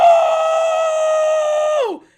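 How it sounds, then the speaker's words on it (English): Ida, an anime character, lets out a long, sustained high scream in the Japanese version. It holds steady for almost two seconds, then drops sharply in pitch and cuts off. "when he screams, realizing Uraraka and Midoriya have won the heroes versus villain training exercise"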